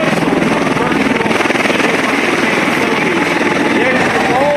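A classic aerobatic airplane with a 400-horsepower engine drones loud and steady at an airshow, its rapid pulsing throb unbroken throughout, with a faint voice under the engine noise.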